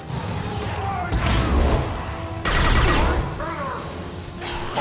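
Gunfire in the video game Mass Effect 2, a dense exchange of shots and thuds during a squad firefight, loud and continuous with sharp bursts, under combat chatter.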